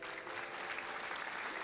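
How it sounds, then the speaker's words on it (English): Steady hand clapping at a faint level, sounding like a crowd's applause, runs unbroken for about two seconds. It is heard on its own, without speech. "Oh, I clap for you, honey."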